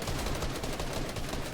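A loud, dense burst of shotgun gunfire in an online shooter video game, rapid overlapping blasts filling the whole moment with no voices.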